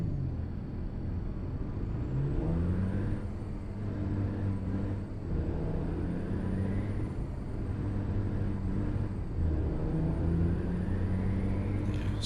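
Idling truck engine in American Truck Simulator after a crash on black ice, a steady low rumble with a faint whine running unbroken throughout, no speech.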